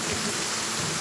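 A thunderstorm with heavy rain pours down as dense, continuous hiss, with a low rumble beneath the downpour.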